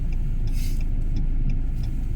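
Road traffic near a house rolls by as a continuous low rumble of passing cars, steady and fairly loud throughout with no voices.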